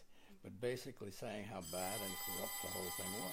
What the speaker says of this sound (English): that's a phone, but okay.